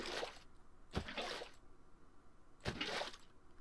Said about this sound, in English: let's just go ahead and fill this guy up with water